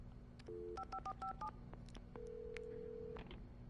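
A phone is dialed in Alan Wake Remastered: a rapid run of distinct touch-tone beeps, then a steady held tone lasting about a second, clear and close over a low background hum.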